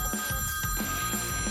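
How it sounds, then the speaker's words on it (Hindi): A telephone rings in a cartoon scene with repeated rapid electronic trills in a steady rhythm, several bursts within a moment, clear and up close. "मेरी प्यारी लिज़ी का फोन है।"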